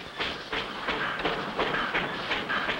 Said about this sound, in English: How do you like this little train, Spinner?